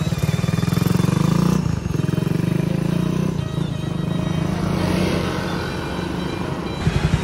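A pit bike motorcycle with a newly fitted engine block, still being broken in, is ridden along a highway. Its engine drones loud and close with a low, throbbing rhythm that dips and recovers as the throttle changes.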